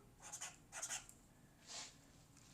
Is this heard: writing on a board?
yes